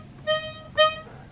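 A harmonica sounds two short E flat notes played with tongue blocking, each a brief reedy tone, close and clear over a quiet background.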